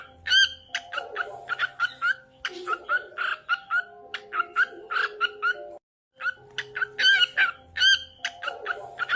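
Recorded birdsong plays: repeated bright chirps and warbling whistles in quick phrases, with a short gap partway through, fairly loud and close without talk.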